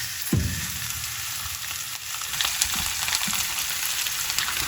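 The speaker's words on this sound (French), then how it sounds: "Et j'y ajoute les bok choy." Bok choy frying in garlic in a pan, a strong continuous sizzle with a burst as the greens hit the oil and occasional scrapes as they are stirred.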